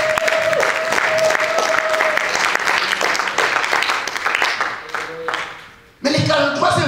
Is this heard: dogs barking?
no